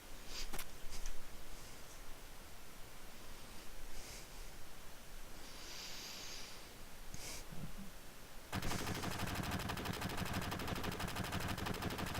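Enemy gunfire in Final Fantasy 7, a short burst of sharp shots near the start over a steady game ambience, followed later by a dense, loud rattling noise that fills the rest of the scene.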